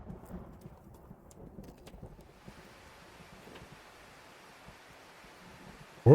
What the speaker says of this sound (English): My ears are filled with the heavy, measured clatter of droplets against the roof.